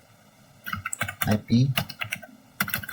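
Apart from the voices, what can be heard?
typing ipconfig command on a computer keyboard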